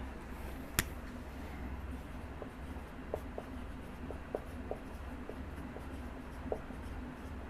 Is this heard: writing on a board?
yes